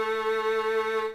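On the G string of a violin, a single sustained A note is bowed steadily and close up for just over a second before it fades out. It is clear and unaccompanied.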